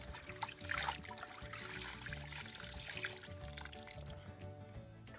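Water rinses the casing of an Automower 330X robotic lawn mower, a steady close trickle and pour that runs continuously and fairly quietly.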